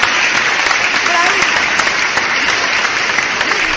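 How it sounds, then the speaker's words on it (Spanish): Loud, dense applause from a crowd, steady clapping throughout with a few voices calling out underneath. "bravísimo aplauso para ellos"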